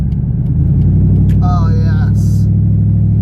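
An Infiniti Q45 drives and slows to turn off a 45 mph road onto a residential street, its engine and road rumble loud and steady up close, with a brief spoken remark and a short chime partway through.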